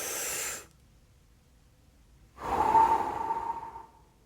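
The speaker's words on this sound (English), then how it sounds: "We're gonna take a deep breath." A slow, deep breath drawn in during a guided healing session, heard alone as a soft, airy swell of breath that rises and fades after a brief quiet pause.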